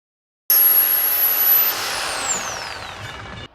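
Bosch GSA1300 PCE reciprocating saber saw running and cutting, a loud steady buzzing whine that starts abruptly, eases slightly midway, and continues close by until it cuts off, with no talk.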